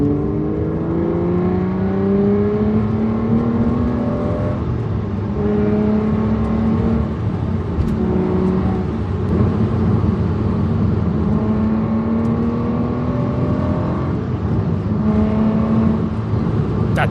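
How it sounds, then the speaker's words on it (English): A hand-built British V12 with a manual gearbox revs steadily and loud and close, its pitch climbing and falling in repeated smooth sweeps with no talking over the sustained engine note. "it's time to have a listen to this hand-built, manual British V12"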